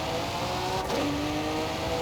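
A Cadillac engine in Forza Horizon 5 revs loudly and continuously, close and alone, with a pitch rise and fall around the middle of the short burst.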